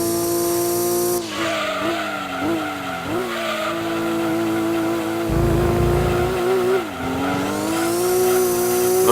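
Racing car engine in the Gran Turismo 2 video game, a loud steady drone rising and falling through gear changes with brief tyre skids and a surge of revving near the end, with no talk.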